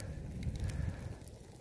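Rotted, punky wood burning in an outdoor fire, giving a steady low rushing roar with soft flutter and no sharp pops, heard alone at moderate level.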